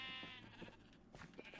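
Sheep bleating in Minecraft, a single wavering blocky bleat that fades partway through, close and fairly quiet, heard alone without talk.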